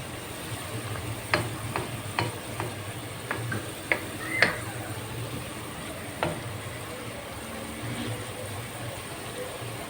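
Onions fry in a pan over low heat with a soft continuous sizzle, punctuated by a series of sharp spoon clicks and scrapes as they are stirred, close and moderately loud.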